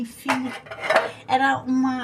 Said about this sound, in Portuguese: toda vez que eu lavo a louça, eu lavo minha blusa também